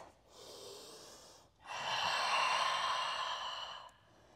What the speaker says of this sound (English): your ujjayi breath, that ocean breath, that's like constriction through the back of the throat